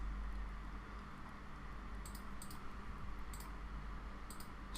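A computer mouse gives a few quick clicks in small clusters, close and crisp over a constant low hum of background noise, with no one talking.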